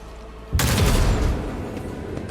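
A gun fires in the Warhammer 40000 game Rogue Trader: one sudden loud blast that rings out and decays over a second or so, close and alone.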